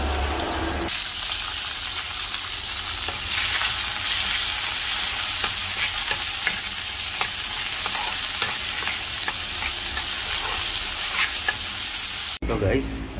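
Tomato and vegetables sauté in a pan, a steady close sizzle with frequent stirring scrapes and clinks running throughout, ending with a brief different noise at the very end.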